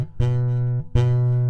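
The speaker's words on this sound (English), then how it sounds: "a buzzing sound." A G chord note on a guitar is plucked twice with the fretting finger too far from the second fret. Each pluck rings with a bright, slightly rattling tone that sustains briefly.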